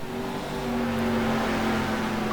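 Mosler GT2 race car engine in a racing video game at Road Atlanta, a steady loud droning whine that holds at a fairly even pitch throughout, with no voices.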